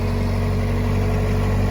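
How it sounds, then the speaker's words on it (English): A tractor engine levels a mound of dirt, running as a loud, steady low drone with a constant hum and no change in pitch over the short stretch. "LE came over with the tractor and moved that debris pile"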